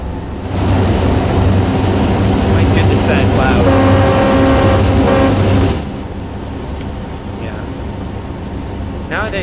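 Loud CRR F7A diesel locomotive in Train Sim World 5 over-revving, a heavy roaring drone with rising engine whine that cuts off sharply, leaving a quieter rumble behind.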